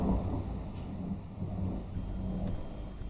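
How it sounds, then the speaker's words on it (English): A low, rolling rumble of thunder, faint and distant, swelling slightly and fading in a continuous growl with no talking. "Thunder, is that you?"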